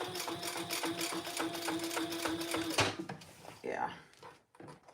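A home sewing machine stitches a second row over an existing line of stitching on webbing, a steady rapid motor whir with needle chatter for about three seconds, then stopping, followed by a few quieter handling noises.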